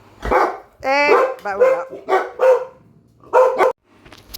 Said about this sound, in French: mes toutous se sont mis à aboyer